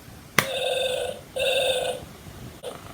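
Star Trek Tribble toy vibrating and chirping: a sharp click, then two buzzing electronic trills about a second long each, close and loud, with a soft tap near the end.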